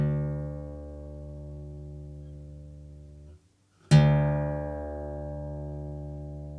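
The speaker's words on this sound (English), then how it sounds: "You're going to tune that a tone and it's going to go from an E to a D." A single acoustic guitar string rings out with a sustained harmonic tone, briefly drops to silence, then is plucked again and sustains at a lower pitch, as the top E string is retuned down a tone to D; no voices.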